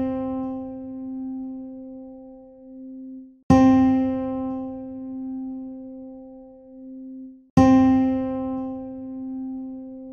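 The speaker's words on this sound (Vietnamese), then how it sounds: "Cao độ vừa nghe là nốt. Đô." A sustained musical note C (Do) sounds three times for ear training, each tone starting with a sharp attack and then holding steady and clear for a few seconds.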